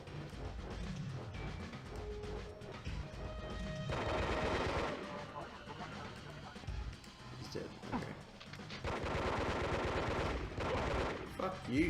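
Enemy gunfire in the video game Disruptor, rapid bursts of shots and weapon fire that rattle on and off under a busy mix of game effects, with a player talking over it.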